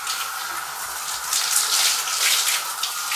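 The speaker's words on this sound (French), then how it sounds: "Je vais rincer ça." Water streams down while shampoo is rinsed out of hair, a steady splashing gush with bursts of spattering as the flow hits hair and hands, with no talk.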